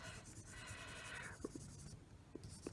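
A fingernail rubbing over paper laid on linoleum to transfer a drawing for a linocut print makes a faint, continuous close scratching and rustling, broken by a few soft taps, alone without speech.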